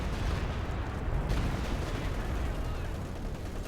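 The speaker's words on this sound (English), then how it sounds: "Second Stuka firing." Dense, continuous battlefield gunfire and heavy weapon fire from a Stuka attack in Company of Heroes 2, loud and sustained without pause, with no speech.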